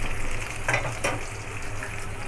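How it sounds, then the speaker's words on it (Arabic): Eggplant slices frying in hot oil for a homemade Egyptian moussaka, giving a steady close sizzle and crackle with a couple of brief louder bursts, no voices. "هنكمل انا حبايبي بقى بقيه قليه البدنجان"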